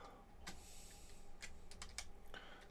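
Computer keyboard typing in a farm office while field names are entered for planting peas and flax, a few separate clusters of keystrokes over a low steady hum, moderately close and fairly quiet.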